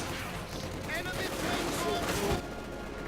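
Heavy gunfire in a Company of Heroes 2 1v1 match, a steady dense crackle of battle noise with a Soviet guardsman squad pinned under fire, running continuously under a commentator's voice.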